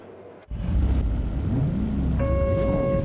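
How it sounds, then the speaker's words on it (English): McLaren 570S GT4 race car in a racing video game pulling away from the line: a sudden steady engine drone that builds after a brief quiet start, with a higher sustained tone joining near the end. "I'm gonna run my favorite GT4, which is the McLaren 570S."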